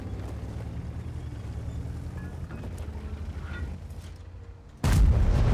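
A heavy tank's main gun fires in World of Tanks, one sudden loud blast bursting in near the end after a stretch of low engine rumble and ambient battle noise.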